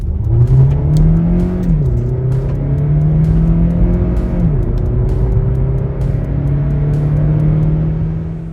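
Kia Niro plug-in hybrid accelerating hard in a test run, engine tone rising steadily then dropping briefly at gear changes before climbing again, loud and continuous with no talk.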